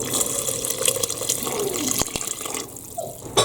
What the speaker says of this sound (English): I think I'm going to have to add some more water to this